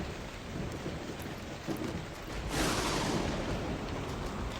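A thunderstorm in the video game Z.O.N.A. Project X, with steady rain hissing throughout and a rolling thunder rumble swelling midway and lingering to the end.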